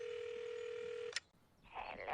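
Telephone heard during a music feedback show: a steady electronic ringing tone that cuts off abruptly, followed by a brief click and a faint rustle, quiet and close.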